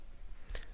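A single short computer mouse click in a search field, quiet and close, against a low background hum.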